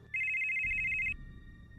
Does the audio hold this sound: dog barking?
no